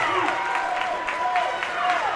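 A crowd at a high school swim meet between Warren Central, Roncalli and Herron cheers and claps steadily, with echoing voices and whistles carrying through a pool hall.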